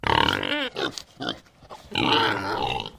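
Pigs on a kibbutz pig farm grunt and squeal loudly and close by, in several bursts separated by short pauses.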